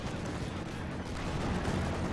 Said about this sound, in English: The Ostwind's been shooting the whole time.